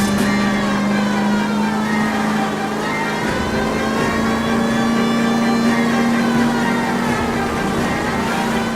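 Car engine revving hard in an L.A. Noire car chase, a loud continuous roar with a steady droning pitch that rises and falls slightly as the vehicle accelerates, sustained without break.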